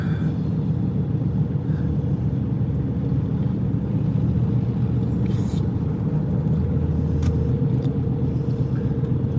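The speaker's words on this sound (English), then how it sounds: "Interstate 70, right here. I mean, look at all the traffic." Heavy traffic on Interstate 70 rumbles steadily, a dense continuous road roar of cars and trucks heard from inside a moving vehicle, with a few faint clicks and knocks over the drone.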